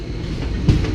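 Vindhyachal Express train at Kareli station, a steady close rumble of rolling railcars with a brief louder thump near the end.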